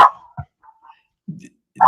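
A dog barks outside while being walked past a house, a few short yips and barks with quiet gaps between them, fairly close and loud, without anyone talking.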